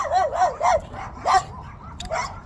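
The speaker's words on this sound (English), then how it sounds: "just like these dogs right here" Dogs bark and yip in short, excited bursts, several barks over a couple of seconds at moderate distance, with a faint low background rumble.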